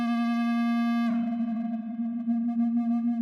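A sustained audio feedback tone from the Nirvana device, a steady pure hum with bright overtones that shifts abruptly into a rougher, wavering ring partway through.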